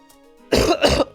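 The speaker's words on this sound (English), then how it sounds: "I'm gonna get all these coughs out, and then it'll, like, be fine." A person clears their throat and coughs twice in quick succession, close and fairly loud, with quiet room tone before.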